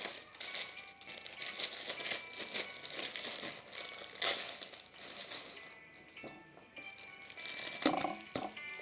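Plastic wrapping torn and crinkled while opening a Hachette collection magazine package with Hello Kitty inside, continuous close crackling and rustling with a few sharper rips and soft handling knocks.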